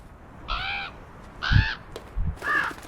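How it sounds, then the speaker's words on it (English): A crow cawing at a window in the video game Draugen, three harsh caws spaced about a second apart, close and clear over a quiet background. "Oh, that's a bird. Why is it trying to break in the window? Crows are never a good sign."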